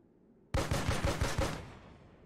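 A short burst of rapid gunfire rings out in the turn-based video game Dreadlands. About six quick, loud shots roll together, then fade into a brief echoing tail.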